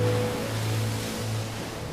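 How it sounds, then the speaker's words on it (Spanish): Storm waves pound the schooner Southern Cross off the coast of Chile in a dense, continuous roar of churning surf and water at sea. "Las olas sacuden el navío mientras en el cielo se desata el infierno"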